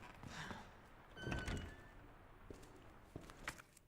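A door opens in the Resident Evil 2 Remake game, a sliding, creaking movement that builds to a loud mechanical swell in the middle, followed by a few scattered thuds and knocks, with no talk.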